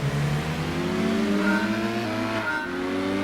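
A slow, low-horsepower stock truck in Gran Turismo 2 drones steadily, its engine tone rising gradually under acceleration and staying loud and continuous throughout.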